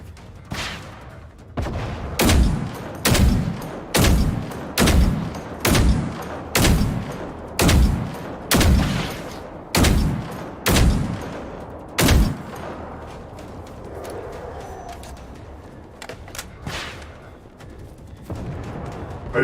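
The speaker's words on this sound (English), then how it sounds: "Are you shooting that way?" Gunfire in the video game Generation Zero: a rhythmic series of about a dozen loud, evenly spaced shots, then the firing stops and a softer, rumbling background takes over.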